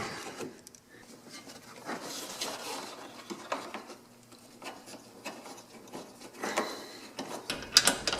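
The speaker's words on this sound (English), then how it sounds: "I'm going to take out the screw right here." A screw on the front bumper bracket of a Ford Fusion is worked loose with a hand tool, giving soft rasping and ratcheting scrapes in short bursts, fairly quiet and close, with no talking.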